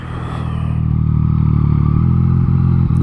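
A Yamaha MT09 motorcycle engine runs steadily nearby, a loud, continuous low rumble holding an even pitch with a slight dip near the end, no voices.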